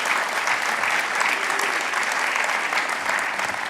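Sustained applause from an indoor audience at the Penn Center for Innovation launch event, dense steady clapping at even loudness filling the whole moment with no voices over it.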